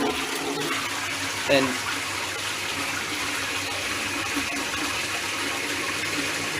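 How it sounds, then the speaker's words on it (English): A toilet flushes on a household water supply fitted with a Grundfos booster pump. A sudden gush is followed by a steady rush of running and refilling water, and a voice briefly speaks. "I'm going to flush this."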